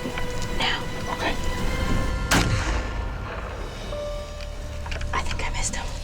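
A whitetail deer hunting rifle fires once, a single sharp loud crack midway through, set against outdoor rustle and hushed, whispered talk before and after.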